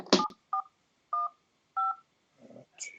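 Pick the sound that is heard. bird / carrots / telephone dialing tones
telephone dialing tones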